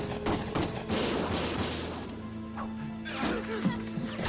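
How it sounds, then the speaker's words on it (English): Gunfire in the Valkyria Chronicles Remastered video game: bursts of sharp shots and crashes spread across the span, with loud impacts early and again near the end, mixed with game music and voices. "Gunfire!"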